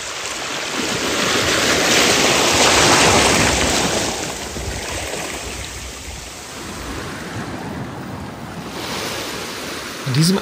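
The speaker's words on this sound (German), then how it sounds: "Stürmischer Wind" Stormy wind gusting by a deep canal, a loud, steady roar of rushing air buffeting close, swelling and easing gradually.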